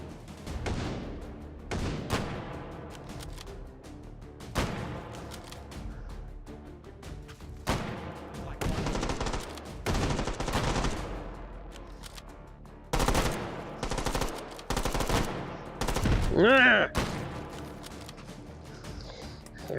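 Rifle gunfire in the VR game H3VR Take & Hold: repeated loud bursts of shots fired in uneven clusters, with sharp cracks and fast rattling volleys spread across the whole stretch and no talking.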